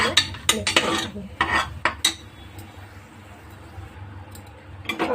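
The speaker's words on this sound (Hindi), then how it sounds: "अब इन सब मसालों को इसमें मिक्स करेंगे।" Spoon stirring ground spices, turmeric and red chili powder, into a cooking pot for mixed vegetable tahari, with a quick cluster of sharp metallic scrapes and clinks, then a quieter stretch and a few more clanks at the end.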